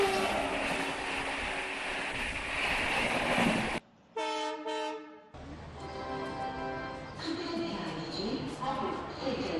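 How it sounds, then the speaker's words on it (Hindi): The Dakshin Express pulls into Bhopal station with a rumbling, clattering roll, broken by a brief horn-like tonal blast, then continued rail noise and station clamor with people talking. "हम एक ट्रेन जो भोपाल स्टेशन पे समय पहुंची है, दक्षिण एक्सप्रेस"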